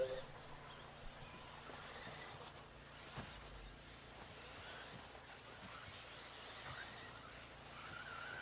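RC cars racing on a track, a continuous faint whine and hiss of small motors and tires with occasional ticks, steady background without clear talk.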